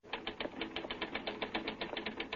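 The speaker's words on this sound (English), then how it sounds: "Get that typewriter." A typewriter clatters in a steady, rapid run of keystrokes in a radio drama newsroom scene, brisk and moderately distant, with no voices over it.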